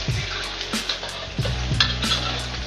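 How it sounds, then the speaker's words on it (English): Food frying in a steel wok for homemade nasi goreng, left to cook until golden brown: a steady crackling sizzle with scattered pops and stirring clatter, close and moderately loud. "The trick is to kind of just let it fry until it's golden brown"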